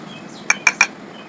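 A spoon clinks three times in quick succession against a bowl while roasted chickpea flour (chhatu) is added, crisp and close in an otherwise quiet kitchen.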